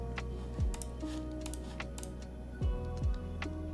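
A custom W70 mechanical keyboard clatters under steady typing, scattered crisp keystrokes up close over a constant low hum with occasional gliding tones.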